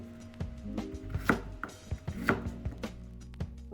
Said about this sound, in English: Chop the potatoes into bite-sized pieces